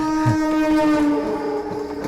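A passenger train sounds its horn in a long, loud, sustained harmonic blast close by, with faint rumbling rail noise underneath.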